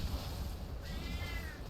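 A pet cat meows once, mid-pitched and rising, close by against a steady low background hum.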